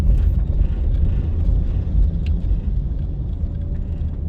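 A car drives along Red Hills Road through a residential area, its steady low engine and road rumble continuous and close throughout, with some wind buffeting and no talking.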